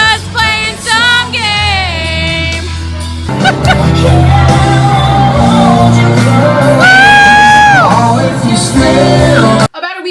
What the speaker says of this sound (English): I will put a clip of that and me probably screaming because I screamed through all of these clips